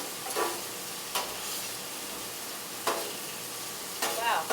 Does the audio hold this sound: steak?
yes